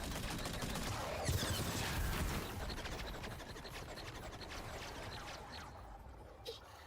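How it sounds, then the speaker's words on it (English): A turret in Metroid Prime 4 firing in rapid bursts, a dense rattle of shots with a few sharper impacts, fading somewhat toward the end. "Some kind of turret, I guess."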